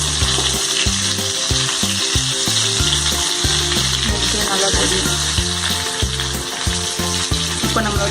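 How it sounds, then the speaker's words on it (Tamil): Fish pieces fry in a pan with a steady, dense sizzle that runs without a break, while rhythmic background music with a thumping bass plays underneath. "நம்மளோட ஃபிஷ் ஃப்ரை வந்துட்டு ரெடி ஆகிடுச்சு. ஸ்டவ் ஆஃப் பண்ணிக்கலாம்."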